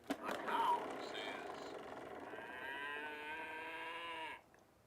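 A sampled cow moo rings out loud and close, a long drawn-out bellow with rising tonal harmonics that holds for several seconds before cutting off abruptly, preceded by a short burst of mixed noise.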